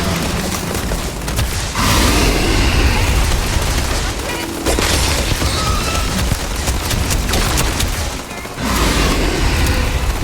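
Sustained rapid gunfire aimed at a Terrormorph creature in the video game Starfield, a loud dense barrage of shots and booms with brief pauses near two and eight and a half seconds, continuing almost without let-up.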